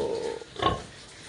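Pigs grunting in a farm pen, one short snorting oink rising briefly out of low background noise, close by.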